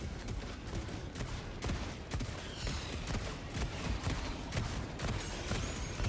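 Rapid gunfire in Helldivers 2 aimed at a Bile Titan, a dense steady stream of shots cracking in quick succession throughout, mixed with game battle noise at moderate level.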